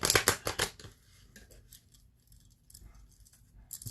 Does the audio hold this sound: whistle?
no